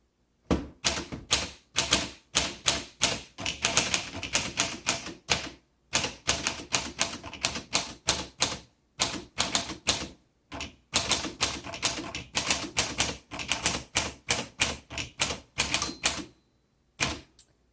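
Bursts of rapid key strikes on a 1938 Corona 2C vintage typewriter, crisp mechanical clacks in quick runs separated by short pauses, close and clear with no talking.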